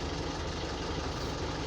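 A Mitsubishi L200 Triton diesel engine idles with a strange noise in its motor, giving a steady, dense mechanical rumble with faint knocking texture, close and continuous without any voices.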